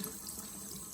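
Tap water runs steadily into a sink while fennel bulbs are washed, a brief, soft, even stream.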